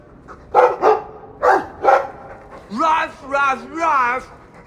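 Dog barks from the Dragon Age 2 video game: four sharp, close barks in two quick pairs, then three longer whining, howl-like yelps with wavering pitch, with no talk over them.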